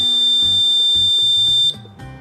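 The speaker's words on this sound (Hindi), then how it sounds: "जैसे ही बच्चे ने भारत सेलेक्ट किया या लाइट भी जल उठी और बजर भी बज उठा।" A homemade electronic quiz board buzzer blares a loud, shrill, continuous tone for nearly two seconds, then cuts out abruptly, with a low rhythmic rattle underneath and no voices.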